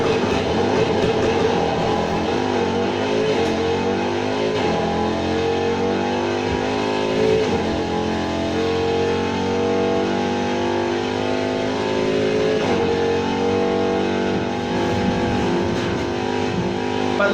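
Range Rover Sport SVR from 2015 in the racing game Need for Speed Heat, its engine holding a steady loud drone with rising and falling revs over the full stretch, no voices heard.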